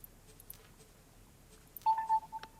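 A mobile phone left off silent sounds a short ring or alert tone, a few brief electronic beeps near the end following near-silence.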